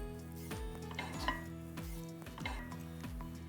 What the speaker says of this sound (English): The vegetables go in next.